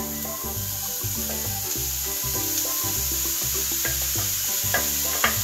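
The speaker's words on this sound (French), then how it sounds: "On fait revenir les légumes quelques minutes." Grated zucchini and carrots with a garlic clove being sautéed in a pan, a steady close sizzle with stirring scrapes and clinks throughout, no one talking.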